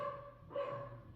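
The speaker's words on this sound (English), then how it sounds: "My dogs are going crazy." Pet dogs bark at home, a short burst of barking from a little distance under a steady tonal hum.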